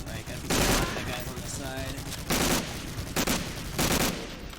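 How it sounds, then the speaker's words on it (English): Gunfire in the World War II shooter Medal of Honor: Allied Assault, with several loud bursts of rapid fire separated by quieter stretches of background battle noise. "They're gonna get gunned down before they're ready."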